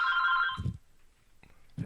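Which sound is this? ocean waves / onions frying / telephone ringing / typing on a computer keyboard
telephone ringing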